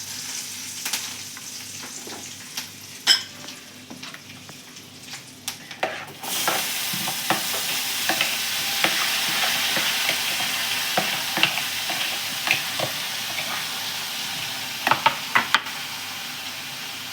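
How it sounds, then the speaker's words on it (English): Onion, chili, peanuts and curry leaves sizzle and fry in hot oil while a spoon stirs them. The frying hiss is steady throughout, with scattered scraping clicks and a louder burst of sizzle partway in. "Add the onion and chili into a few peanuts and curry leaves to the oil and stir well"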